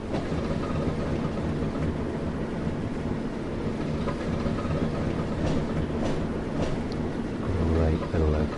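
Diesel locomotive in the Train Sim World game on the Tees Valley Line, with front ventilation open: a steady loud rumbling engine drone with rail clatter, low throbbing rising near the end, and a voice talking over it.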